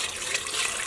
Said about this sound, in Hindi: इसके ऊपर अब मैं डालूँगी गर्म उबलता हुआ पानी